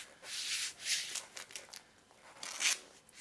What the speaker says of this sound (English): Rubbing the tape deeply into the floor and into the cable so it will stick.